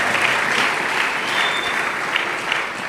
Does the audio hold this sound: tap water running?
no